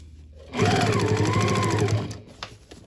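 A sewing machine runs steadily while stitching a zipper onto placemat fabric, a loud, close, continuous whirring burst of about a second and a half, then stopping with a few small clicks.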